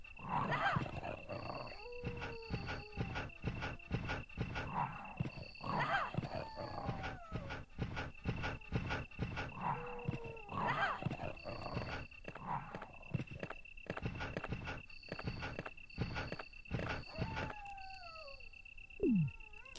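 A dog in the Sega Saturn version of Resident Evil snarls and growls in repeated bursts among sharp game thuds, beeps and footstep-like clicks, fairly quiet overall.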